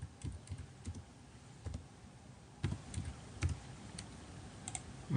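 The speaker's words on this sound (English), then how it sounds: "And let me type captcha once again." Someone types a captcha on a computer keyboard, giving scattered clusters of light key clicks with short pauses between bursts, close and fairly quiet, with no voices.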